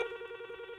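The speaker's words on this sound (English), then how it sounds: "Wait, is this when somebody calls now? We get an old-fashioned ring." An old-fashioned telephone rings on a radio show's call-in line, a steady trilling bell ring, clear and close, continuous through the short moment with no talk.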